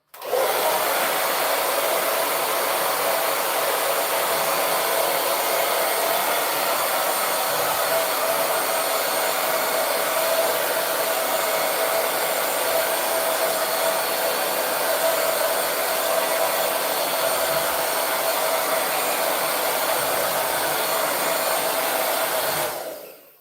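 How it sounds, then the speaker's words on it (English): A hair dryer runs continuously on long, tailbone-length 4c hair, a loud, steady whooshing blow that holds level for the whole stretch and then cuts off at the end, with no voices. "I am blow drying my hair to give myself a haircut"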